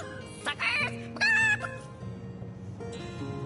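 A chicken in the video game Divinity: Original Sin clucks in a few short, close bursts over a quiet game backdrop, with a louder squawk in the middle.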